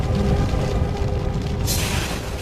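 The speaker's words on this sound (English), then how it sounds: "Still the explosion rages, hurling molten rock, ash, and noxious fumes into the air." Deep, sustained roar of an erupting volcano hurling molten rock and ash, a loud continuous low rumble that thins to a hissing wash near the end.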